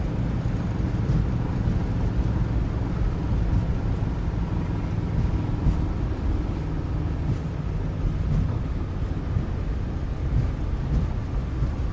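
Sustained broadband roar of a PMDG 737-600 using reverse thrust after touchdown in Microsoft Flight Simulator, a steady loud rumbling wash that holds level throughout with no voices.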